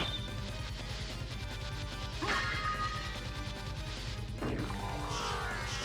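Wing smash attacks in Castlevania: Symphony of the Night land as two loud crashing whooshes over steady game music and effects.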